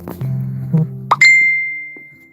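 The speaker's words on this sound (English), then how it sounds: "Turn this goddamn notification off" A short phone notification rings out: soft plopping tones, then a bright ding that rings and slowly fades, clear and close with no one talking.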